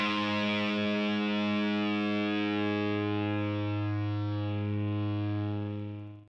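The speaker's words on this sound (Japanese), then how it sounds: "この3つの音はすべて A 音でありギターの5弦開放音を鳴らしたものです" A guitar's open fifth string rings out as a single sustained A note, struck once and left to decay slowly over about six seconds, steady, close and alone.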